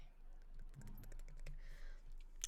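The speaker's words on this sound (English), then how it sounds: "She's gonna go back to like typing on her computer." Faint, quick clicks of fingers typing on a computer keyboard at a hotel front desk in a Vampire: The Masquerade role-play, set in New Orleans, with a low hum underneath.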